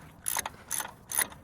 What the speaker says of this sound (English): Just now bolting everything down.